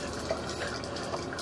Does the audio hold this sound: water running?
yes